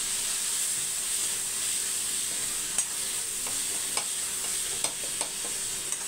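Onion, tomato and chilli powder sizzle steadily in a pan, a constant hiss with a few sharp scraping clicks from a spoon stirring through the second half.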